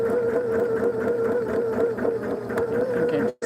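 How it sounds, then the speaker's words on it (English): A sewing machine stitching down a piece for a miniature log cabin, a close, continuous steady whir that stops abruptly near the end. "I'm gonna go ahead and stitch this one down"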